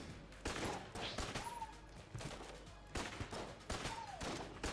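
Repeated Winchester rifle fire in the video game Enter the Gungeon, dense bursts of gunfire recurring in loud clusters against a steady game soundtrack, with a couple of rising whistle-like effects between volleys.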